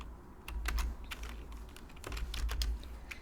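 Keyboard shortcut typed on a computer keyboard: a handful of crisp, close key clicks in an irregular rhythm, alone over a low background hum.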